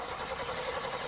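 A car engine cranks over during an ignition test, a steady mid-range churning that runs unbroken and fairly loud for about a second with no voices.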